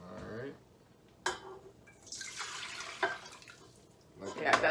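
Water mixture poured into a KitchenAid mixer bowl for beginner bread: a splashing, gurgling pour with a few drips and clinks, near and moderate, with people talking briefly.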